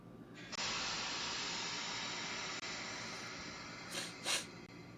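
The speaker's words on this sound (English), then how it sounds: "This sound effect is called Steam 11." Steam 11, an Alexa skill sound effect, starts with a sudden loud hiss of escaping steam that holds steady for about four seconds. Two brief surging puffs come near the end before it cuts off.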